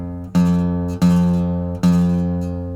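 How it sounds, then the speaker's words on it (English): A guitar string rattles and buzzes against the fret when fretted with the finger too far behind it, three separate plucks each ringing with a slightly fuzzy sustain, close and fairly loud with no talking. "The string is rattling because I'm not holding it in a good position."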